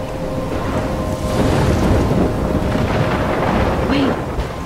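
Inside the Life is Strange video game, a storm roars as a dense, steady wall of wind and rumbling thunder, loud and close throughout.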